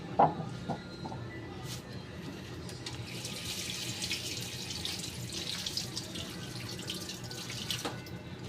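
Fruits and vegetables from the market being rinsed under a running kitchen faucet, a steady splash of water into a sink with a few clinks near the start, close and moderately loud throughout.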